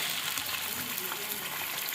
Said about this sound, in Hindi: अब हम इसके अंदर गोश्त डालते हैं।